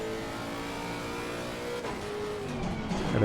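Race car in Assetto Corsa Competizione accelerating hard, its engine note droning steadily and rising in pitch, with a brief shift partway through and a louder surge toward the end.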